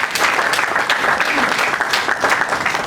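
An audience applauds continuously, a dense wash of clapping from many hands with no pauses, steady and fairly loud throughout.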